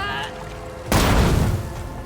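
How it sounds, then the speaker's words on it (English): A frag grenade blast in the Warhammer 40,000 game Rogue Trader: one loud, sudden burst that cuts in partway through and fades slowly, with a low synth tone before it. "Let's just hit with a frag grenade."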